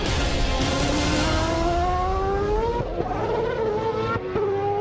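A homemade 200 kg formula race car powered by a Honda CBR 600 superbike engine screams past up close, its high-revving engine note climbing steadily in pitch with a faint tire squeal.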